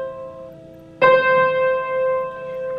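A single pluck of a ukulele's C string gives a bright attack that then rings on with a steady sustain, close and alone, while a fainter earlier note dies away beneath it.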